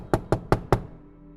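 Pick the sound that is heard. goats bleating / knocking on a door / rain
knocking on a door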